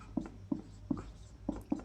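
Pen strokes scratch on paper in short, evenly spaced bursts, about five quick scribbles in under two seconds, close and distinct, with no one speaking.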